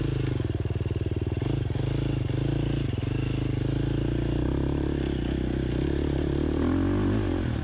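KTM 350 XCF four-stroke dirt bike fitted with a Rekluse auto clutch climbing a hill, engine loud and close with a continuous labouring drone, rising and falling revs, and clattering from the terrain.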